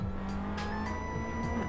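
A Toyota GR Yaris is driven hard up the Tajo hillclimb, its engine revving loudly and continuously with rising and falling pitch, with bursts of tire noise through the corners.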